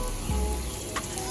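Jamaican-style turmeric salt fish fritters fry in hot oil, a steady close sizzle with a brief soft clunk early on and no talking.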